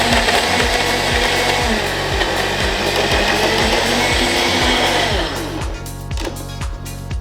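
A blender loudly whirs and grinds ice for a mango daiquiri, chunks knocking in a steady rhythmic churn that thins out toward the end as the mix smooths, close and alone.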